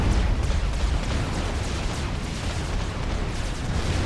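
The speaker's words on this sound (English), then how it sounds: "he might just be able to shut down these factories with all this heavy artillery fire" Heavy artillery fire in the real-time strategy game Supreme Commander: Forged Alliance, a dense, continuous barrage of overlapping booms and blasts rumbling loudly for several seconds with no letup.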